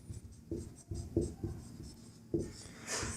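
Pen scratching across paper in short bursts and strokes while a math solution is written out, close and fairly quiet with brief pauses between marks.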